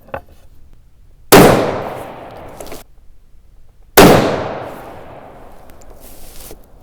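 Two loud rifle shots from a Ruger M77 in .243 Winchester crack a few seconds apart outdoors, each one a sharp blast that booms and fades away over about a second and a half.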